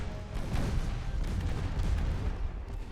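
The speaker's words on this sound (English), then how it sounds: "More torpedo hitting." Dense naval battle gunfire and dull impacts from torpedoes striking warships in the game Ultimate Admiral Dreadnoughts, a continuous rumbling barrage of booms and shots at steady loudness with no voices.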